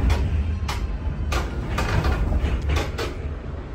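Creaking and groaning of a house battered by cyclone winds on Mayotte, with water leaking through broken windows, heard as repeated brief strained creaks over a constant loud rush of wind and rain.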